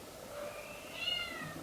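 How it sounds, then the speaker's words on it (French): A pet cat meowing, a short faint mewing cry from close by in a quiet indoor room, with no talking. "à chaque fois que je parle en fait, il miaule parce qu'il veut dormir"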